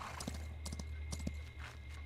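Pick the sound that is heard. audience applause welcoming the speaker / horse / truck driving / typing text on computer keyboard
horse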